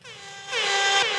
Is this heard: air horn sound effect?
yes